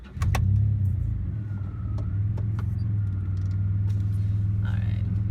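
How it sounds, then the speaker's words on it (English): A car engine starts up and settles into a steady low idle rumble close by, with a few sharp clicks and knocks near the start. "helps to put the car in park to start it up again"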